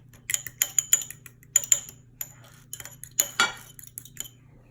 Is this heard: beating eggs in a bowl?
yes